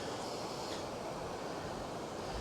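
Steady broadband rush of river water pouring through a falls pool at a good fishing height, a constant close wash with no voices.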